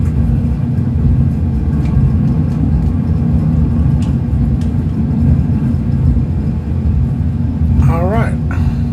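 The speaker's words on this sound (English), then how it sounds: "Reverse thrust." The turboprop engines of an ATR72-500 in reverse thrust in the Prepar3D flight simulator produce a loud, steady, low roar that fills the whole stretch, with a brief warbling tone near the end.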